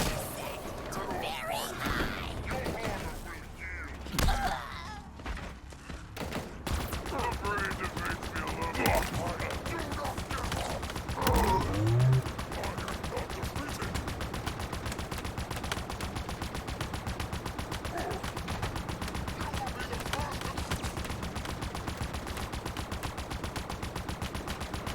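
Gunfire in Halo Infinite, rapid bursts of shots rattling through a busy, cluttered firefight mix, with sharp louder cracks in the first half and steadier fire later, moderately quiet overall.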